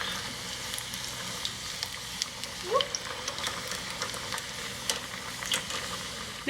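Puerto Rican jibarito sliders fry in a pan, a steady close sizzle and crackle with scattered pops and a few scraping knocks as the patties are flipped; no one speaks.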